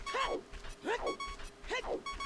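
Dogs at the Dog Racetrack in the Majora's Mask video game, giving three distinct yapping barks evenly spaced over a light background hum, fairly clear and close.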